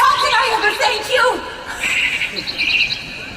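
Birds chirp in a woodland scene from the musical Into the Woods, a short burst of high, quick twittering near the end, following a voice.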